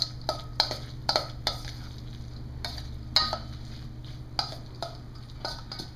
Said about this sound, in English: We're just going to mix that egg in there good